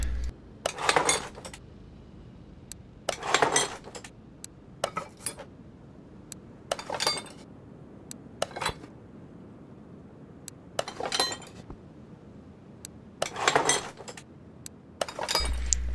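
Car window glass replaced in Car Mechanic Simulator 2021, heard as a series of sharp glassy clinks and clattering metallic impacts in separated bursts, fairly loud and close, no speech.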